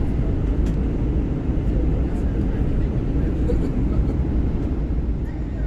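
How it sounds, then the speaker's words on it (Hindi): Steady, loud broadband roar of a passenger airplane cruising over cold-desert mountains toward Skardu, a continuous engine and cabin drone with no breaks throughout. "इस वक्त हम कोल्ड डेजर्ट के ऊपर फ्लाई कर रहे हैं"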